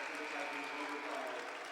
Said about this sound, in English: this Norristown crowd gets fired up once again